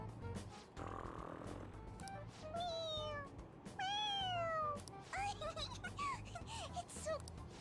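A cat in the video game Persona 5 Royal lets out several drawn-out, rising and falling meows one after another, clear and up front over a low background hum.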